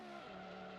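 A Formula 1 car spinning out in a 1994 Brazilian Grand Prix racing game, a sustained engine drone whose pitch drops suddenly as the car loses grip, heard briefly and alone.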